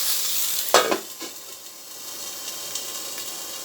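Fish sizzles gently in a dry pan with no oil, a steady soft crackle broken by a brief scrape of stirring or turning near the start, close and alone without talk.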